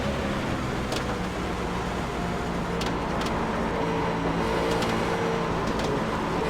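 A NASCAR race car engine roars steadily at Pocono in the iRacing simulation, a loud continuous drone with faint passing cars and no talking.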